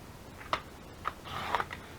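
Paper being trimmed down to 8.5 by 11 inches at a craft table, a few soft, quiet cutting snips and crisp crinkles spaced over a couple of seconds.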